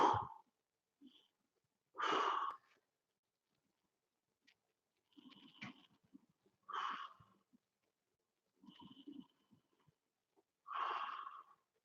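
Deep breathing, with about five slow, breathy inhales and exhales spaced a couple of seconds apart, close and quiet with silence in between.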